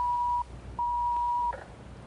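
A telephone's electronic ring sounds as two steady tones, a short one then a longer one, with a small gap between them and faint room sound beneath.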